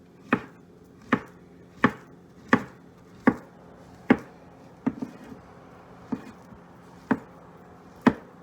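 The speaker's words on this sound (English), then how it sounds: "so now I'm going to just chop them" A knife chops walnuts on a cutting board in about ten sharp, evenly spaced knocks, close and distinct, each one a crisp tap against a quiet kitchen background.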